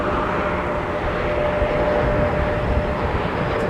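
A Delta Airbus A330neo airliner at Minneapolis–St. Paul Airport during a winter storm, heard as a steady, loud broadband jet roar that holds evenly throughout with no voices.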